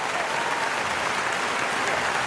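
A burst of recorded applause plays at steady volume, a dense crowd of clapping hands sustained throughout without pause, no other sounds layered on top.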